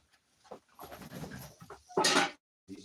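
A dog pants in short, uneven bursts close by, with a louder breathy rush toward the end and quiet gaps between.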